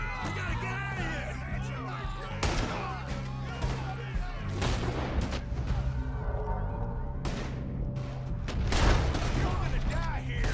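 Repeated gunfire in Red Dead Redemption 2, sharp shots and booms scattered through a tense exchange, with character voices and shouting layered over the shooting.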